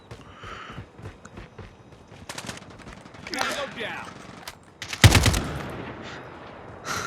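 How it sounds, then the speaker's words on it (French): AK-47 gunfire in the mobile shooter Call of Duty Mobile, with short bursts of rapid automatic shots, the loudest burst near the end, mixed with footsteps and in-game mechanical sounds. "J'adore tirer avec cette arme."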